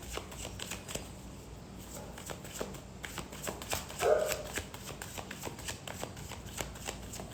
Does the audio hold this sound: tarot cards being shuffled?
yes